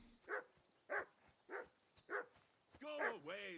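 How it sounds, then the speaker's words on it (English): Dog in the video game Kingdom Come: Deliverance II barks four times in a steady rhythm, moderately close, followed by a voice speaking. "your dog will actually bark at you when he's hungry"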